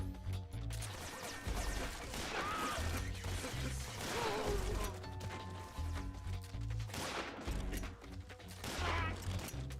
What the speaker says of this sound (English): You can shoot the bodies as well? The spread for the shotgun is high.